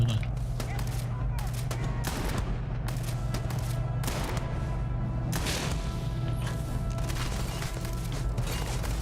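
Gunfire in the video game Starfield, rapid repeated shots and bursts that come in clusters, loud over a low droning backdrop, with people talking during the shooting.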